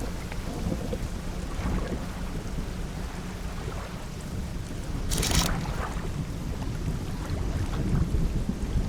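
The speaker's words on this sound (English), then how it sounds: "There is a storm." Thunderstorm with rain in the fishing game Dredge: a steady wash of rain over low rumbling thunder, with a sharp crack near the middle and the storm growing slightly louder toward the end.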